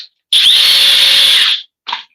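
A cordless power drill on a warm, regular battery whirs steadily at high speed for over a second, then stops; a short second burst follows. The sound is loud and close.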